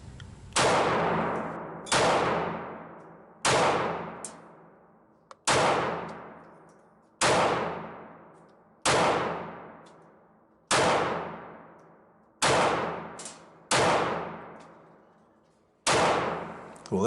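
Ten sharp pistol shots from a stainless Ruger LCP MAX .380 at target practice, spaced about one to two seconds apart, each a loud crack with a long ringing decay, one quick pair near the end.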